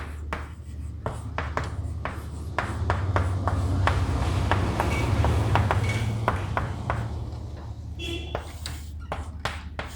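Pen or chalk scratching out notes during a trigonometry lecture, sounding as quick repeated strokes and taps that run under steady talk from the lecturer.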